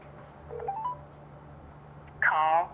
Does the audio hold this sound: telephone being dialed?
yes